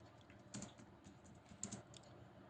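Keystrokes on a computer keyboard as a ticket description is typed into Flipkart Seller Hub, a soft, steady run of clicks with a few sharper taps, fairly quiet and close, no voices.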